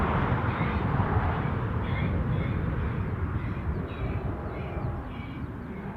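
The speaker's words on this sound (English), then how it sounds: "Bird scarers at work with a repertoire of squats." Bird scarers at Newcastle airport blare recorded crow distress calls, a string of harsh repeated caws over a loud, steady roar of wind or engine noise outdoors.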